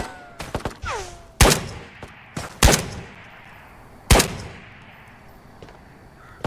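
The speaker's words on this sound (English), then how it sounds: "Who else is shooting at me?" Sharp gunshots ring out in a VR shooter game played on an Omni-One treadmill. About five loud, separate cracks are spaced irregularly over a low background, with a brief whistling sweep near the start.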